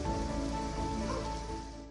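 Steady rain pours down in a mountain region where snowfall has also arrived after a dry spell, a dense continuous hiss with no voices.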